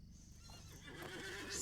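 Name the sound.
horse whinnying in the video game LOTRO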